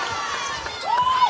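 Partisan home crowd at a women's college basketball game between UConn and Louisville, a steady roar of cheering and shouting that swells briefly, with a sneaker squeak rising over the din.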